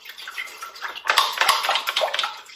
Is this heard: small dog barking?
no